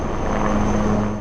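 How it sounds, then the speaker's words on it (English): A search-and-rescue helicopter with thermal imaging cameras hunts for missing people near a tunnel. Its engine and rotor make a steady, fairly loud drone that holds evenly with no pauses. "Helicopters equipped with thermal imaging cameras are being used to trace missing people."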